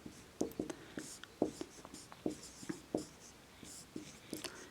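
A pen scratches out a math equation by hand, close and quiet, in short irregular strokes and taps with brief pauses between them.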